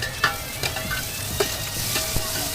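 Mutton and green chillies fry in thick mustard oil, giving a steady close sizzle with occasional stirring scrapes and clinks over about two and a half seconds, with no talking.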